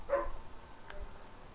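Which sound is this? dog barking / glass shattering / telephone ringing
dog barking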